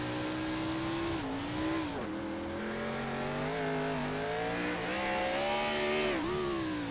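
A 3,200-pound stock car doing donuts at Daytona in a sim racing game, its engine droning steadily with rising and falling revs throughout, loud and continuous with no talk over it.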